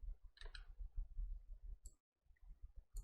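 Computer mouse clicked while using the Photoshop brush tool, a few quiet sharp clicks, close and isolated, over a faint low hum.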